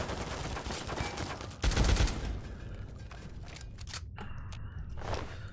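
Gunfire in the video game Fallout 3 crackles as a rapid fusillade of shots, with a heavier burst of blasts partway through, then sparser pops and mechanical clicks as the firing thins out.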